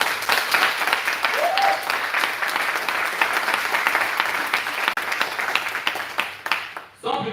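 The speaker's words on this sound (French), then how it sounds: "de lui donner l'ovation qu'il mérite" An audience in a hall delivers a sustained ovation, dense clapping filling the room steadily for about six and a half seconds before tapering off abruptly near the end.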